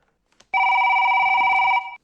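A telephone rings once as a call is placed, a loud continuous electronic tone lasting over a second, clear and close with a near-silent background.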